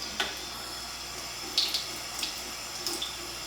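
Water runs steadily from a sink tap while a soapy lash brush is rinsed beneath it, with a constant wash of flow and a few small splashes and clinks.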